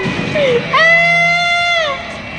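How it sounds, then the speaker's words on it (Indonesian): A woman screams in fear, one long, high, strained wail that rises sharply and holds for about a second before trailing off, heard loud and close after a brief shorter cry. "Aku berteriak ketakutan"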